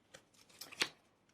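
Angel oracle cards shuffled and drawn by hand: a quiet run of soft riffling flicks, then a sharper snap near the end, with no talking.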